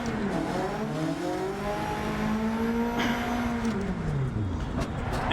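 A rally car in the Dirt 2 racing game played in VR, with a loud steady engine note that rises and falls in pitch as it revs and accelerates, plus some tire noise.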